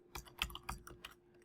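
Code being typed on a computer keyboard: a brief run of five or six soft, close key clicks in an uneven rhythm.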